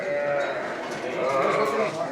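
Milk sheep bleat inside a barn, several overlapping wavering cries close by, rising and falling continuously over a busy background of other animals.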